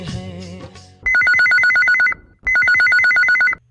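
Telephone rings announcing a radio phone-in request call for Hindi film songs: two loud bursts of rapid electronic trilling ringing, separated by a short pause, following a brief snatch of sung music.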